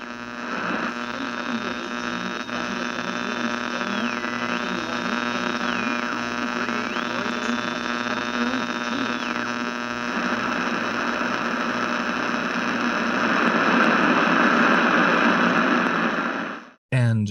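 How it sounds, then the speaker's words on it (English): Radio static is sampled in a song intro, a dense buzzing hiss with a steady hum and wavering tones that sweep up and down, growing louder before cutting off abruptly. "The intro also samples radio static"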